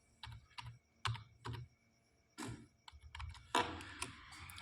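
Typing on a computer keyboard while writing a dummy paragraph in MS Word: irregular bursts of close, crisp key clicks with short pauses, ending in a louder, denser run of keystrokes.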